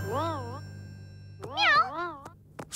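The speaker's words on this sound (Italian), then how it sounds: "È solo Precious, il gatto!" A cat in a cartoon gives two or three rising and falling meows, the later ones louder and sharper, over a low steady hum, with a short thump at the end.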